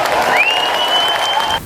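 Sustained applause from a large audience at the SNP annual conference in Aberdeen, greeting Nicola Sturgeon, former SNP leader; steady, dense clapping that holds for the full stretch and then drops off abruptly.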